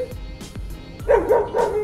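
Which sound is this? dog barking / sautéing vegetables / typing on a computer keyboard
dog barking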